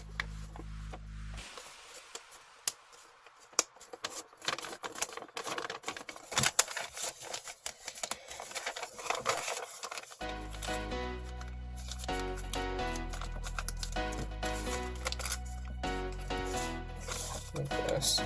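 Paper being folded and creased for a Satoshi Kamiya origami T-Rex, close crisp crinkles and sharp taps that grow busier and denser partway through, with no talk.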